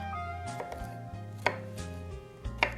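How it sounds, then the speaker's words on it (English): Garlic cloves are coarsely chopped with a knife on a board, a few sharp, uneven chops close up over a quiet background hum, with no speech. "I have 3 to 4 cloves of garlic that I will coarsely"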